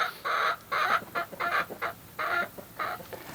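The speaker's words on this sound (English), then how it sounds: "Thank you, Miss Chicken." A hen clucks nearby in a farmyard by a tractor, giving a run of about seven bright, choppy clucks in quick bursts with short pauses, fairly faint and with no talk.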